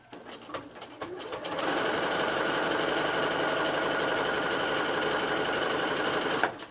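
A sewing machine stitches appliqué lettering onto a table runner, starting after a few light clicks and then running as a fast, steady, close mechanical whir for several seconds before stopping abruptly.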